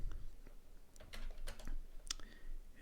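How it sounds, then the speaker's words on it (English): Scattered keystrokes on a computer keyboard, a few separate taps and clicks spread irregularly across a quiet room background, moderately close. "Let's type run."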